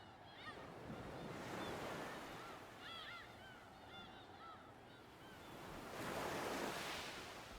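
Ocean surf rolling onto a beach in the game Pragmata, a steady wash of waves swelling and fading, with wind noise and faint bird calls over it, no talk.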